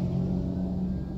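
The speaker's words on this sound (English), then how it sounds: "Is this another fire truck coming?" A fire truck passes by outside, heard as a steady, fairly loud low engine rumble with no siren evident over the brief stretch.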